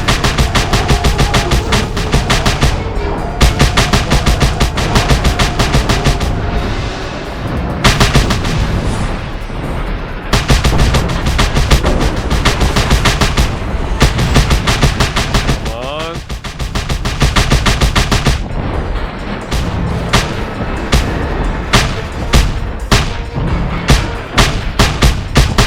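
Heavy weapon fire from a big gun in the open-world action game Just Cause 2, dense bursts of loud shots and booming blasts repeating across the whole stretch, layered with game music and a voice talking at times.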